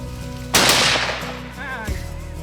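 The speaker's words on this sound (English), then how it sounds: "We both shot. Boom, boom." A loud rifle shot fired while hunting buffalo in Mozambique, a sharp crack with a long decaying outdoor echo, followed by a faint second report and quiet background.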